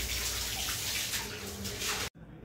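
Water pours and splashes steadily across a house floor as it is washed down, a loud, close, continuous rushing that stops abruptly near the end, leaving a faint quiet tail.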